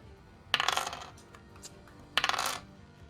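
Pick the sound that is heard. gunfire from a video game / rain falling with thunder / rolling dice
rolling dice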